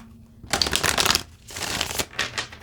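Tarot cards being shuffled by hand, two long riffling bursts of crisp paper flutter close to the listener, separated by a short pause and followed by a few shorter shuffles.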